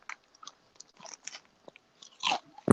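Chips crunched up close in a string of sharp, dry bites, scattered and uneven, ending in a couple of louder snaps with no talking.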